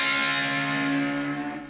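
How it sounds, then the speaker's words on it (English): A single sustained electric guitar note pair, plucked at the seventh fret on the second and third strings, rings out with effects, its pitch bending down slightly as it decays over a couple of seconds. "I'm plucking the seventh fret on the second and the third string and bring it down"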